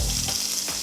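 About 300 grams of washed, cut spinach dropped into a hot pan with seeds on low heat, giving a loud close steady sizzle with watery hiss and no talking.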